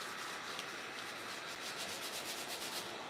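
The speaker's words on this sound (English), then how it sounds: "I'll sand this side so you guys can see" Steady, close-up sanding of a salt-washed wooden chair, an even abrasive rub that runs unbroken with faint rhythmic back-and-forth strokes, no talk over it.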